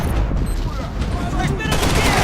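Rapid gunfire from dual-wielded guns in a Call of Duty style shooter game, a dense continuous burst of loud close shots with booms underneath, and someone talking over it.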